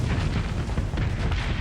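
A ship explodes in the space combat game Starsector, heard as a short, dense rumbling blast. It is broadband and sustained, with no gaps throughout.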